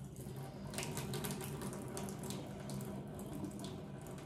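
Water pours steadily out of a pot of grits in a kitchen, a continuous soft splashing stream, fairly quiet and unbroken, with no voices.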